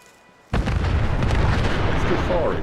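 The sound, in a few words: weapon firing in the video game Fallout 4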